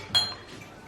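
Wine glasses clink together once in a toast at the Batasiolo winery in Italy, a sharp, bright ring that quickly decays, close by in a quiet room.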